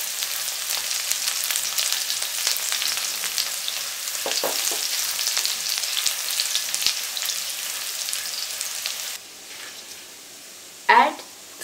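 Chopped garlic and ginger sautéing in a pan after cumin seeds, heard as a dense crackling sizzle with scattered stirring clicks, ending in a brief quieter stretch and a sharp scrape.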